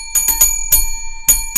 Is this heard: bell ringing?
yes